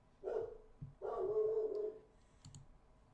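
A dog barks in two loud bursts of yapping inside a Pro Strategy Football game session between the Houston Oilers and Kansas City Chiefs, with a few sharp clicks and quieter noise in between.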